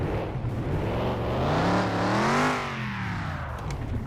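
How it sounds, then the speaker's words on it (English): Old Volkswagen Bug engine running and revving, its air-cooled tone climbing to a peak and falling back, a close, steady rough drone with no talking. "Yikes, this bug doesn't sound that great on startup."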